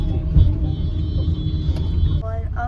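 A car rolls into a parking spot, its engine a steady low rumble close by, with some faint background sounds and no clear speech.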